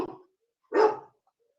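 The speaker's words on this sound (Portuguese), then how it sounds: "Desculpa, meu cachorro tá enlouquecido aqui" A pet dog barks twice indoors, a short yap followed by a louder, fuller bark after a pause, close by with no talk.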